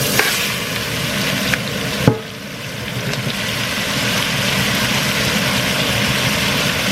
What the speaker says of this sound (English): We're chucking our veggies straight into that.